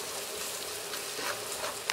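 Pilau masala spice frying in hot oil with browning onions, a dense steady sizzle and crackle throughout, close and continuous, with a faint clink near the end.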